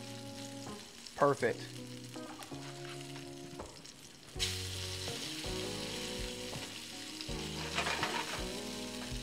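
Speckled trout fillets sizzle steadily in a hot pan, a continuous crackling fry with a brief clatter as the fish is flipped; a voice speaks one short word.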